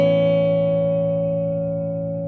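A single guitar note fretted at the 4th fret of the G string rings out from a song's riff, sustaining steadily and slowly fading over about two seconds, alone and close.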